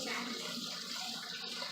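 Hot water runs steadily from a tap into a bowl, a continuous broad hiss and splash that stays even throughout with no pauses.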